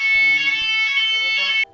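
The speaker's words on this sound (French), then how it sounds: "il y a eu l'alarme incendie qui a sonné dans l'hôtel" A hotel fire alarm sounds at night as a played-back recording: a loud, piercing, steady electronic tone that holds for about a second and a half, then cuts off abruptly.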